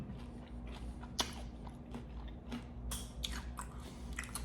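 Biting into fried chicken dipped in gravy, with a sharp crunch near the start followed by soft, close chewing and several crisp crackles spread across the moment.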